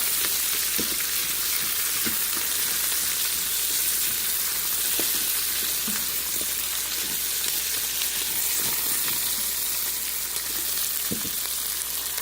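Asparagus sautéing with garlic in a Ninja Foodi pot, a steady close sizzle and crackle with a few faint clicks from stirring, continuous and without talk.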